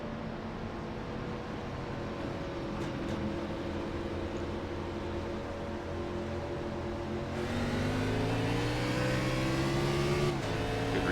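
Race cars in the iRacing simulator at Atlanta roar steadily with layered engine drones, then the pack accelerates together on a restart, the pitch climbing and the sound growing louder.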